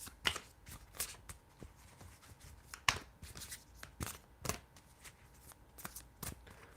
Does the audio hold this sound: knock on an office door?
no